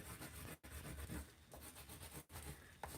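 A white crayon rubs back and forth over paper taped down over a stencil, a steady close scratchy rasp running continuously with two brief pauses where the strokes change direction.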